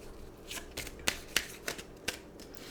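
Tarot cards being shuffled for a reading: a run of crisp riffling snaps and slaps, several sharp bursts in irregular rhythm, close and clear with no talking.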